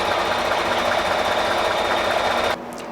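A sewing machine stitches fabric in a steady, fast, even whir with a faint mechanical knock, running loudly and alone before it stops abruptly near the end.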